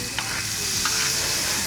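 Chicken sisig frying in Star margarine gives off a close, steady, loud sizzle, with a few soft scraping stirs running underneath and no talking.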